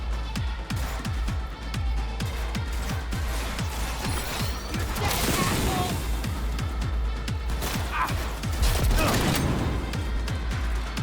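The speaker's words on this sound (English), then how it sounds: "No, this is a sniper rifle, actually." Sniper rifle shots in Cyberpunk 2077: Phantom Liberty, heavy booming reports among a rapid run of crashing impacts and game effects, loud and close, with a voice talking over them.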